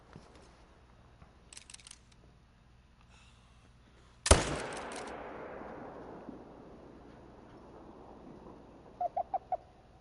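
A single sharp rifle shot at a mule deer in theHunter: Call of the Wild rings out loud and close, followed by a long rolling echo that fades over several seconds, with faint bird calls before and after.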